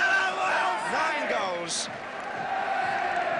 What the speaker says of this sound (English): And as the crowd celebrates